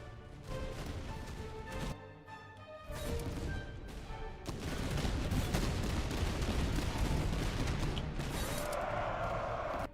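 Volleys of soldiers' gunfire in the video game Master of Command, Prussian forces, dense crackling bursts that pause briefly before swelling into a continuous, loud, rolling barrage.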